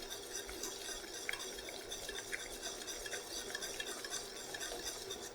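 Butter and sugar heating toward caramel in a pan, stirred steadily, giving a faint continuous sizzle with light scraping and an occasional soft clink of the utensil.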